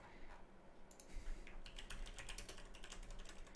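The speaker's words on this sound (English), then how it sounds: "I'm just typing a slash marker in chat." Quick, irregular keystrokes on a computer keyboard entering a chat command, close and fairly quiet, clattering in bursts with brief pauses.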